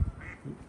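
A duck quacks a couple of times at a distance beside a pond in southern New England near East Brimfield, soft and brief against quiet outdoor background noise.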